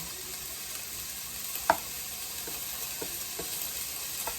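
Garlic sizzles as it fries in oil in a pan, a faint, steady crackle with a few light clinks of a utensil stirring.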